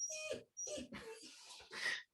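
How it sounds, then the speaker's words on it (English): A dog whimpering for attention, with high, thin whines and yips in four short bursts close by and no other sound between them. "sorry, my dog is very upset that I'm doing this and not paying attention to her right now"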